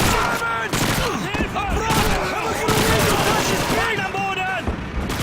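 In the Call of Duty 2 game, a PPSh submachine gun sprays dense, continuous automatic fire, loud and close, layered with other battlefield gunfire and effects while a voice talks over it.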